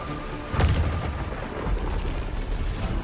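A crack of magical storm thunder in Dragon Age: The Veilguard, a sharp burst followed by a low rolling rumble that lingers at moderate volume, with no voices.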